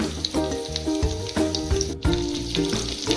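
Stuffed bitter gourds, filled with fresh coconut masala, sizzle in a pan after a curry leaf tempering, a steady close frying hiss with a few sharp spits and crackles, no voices.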